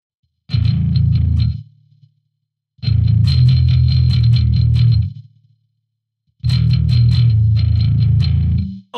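An electric guitar plays a heavy, distorted riff through the gent amp preset, three loud, chugging bursts separated by sudden silences, each ringing out briefly before cutting off, with no voices.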